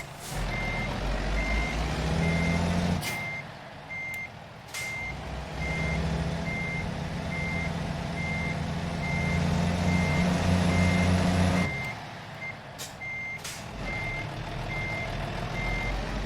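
In American Truck Simulator, a heavy haul truck's reversing alarm beeps in a steady, evenly spaced series over a low engine drone, with a few sharp air-brake hisses breaking in.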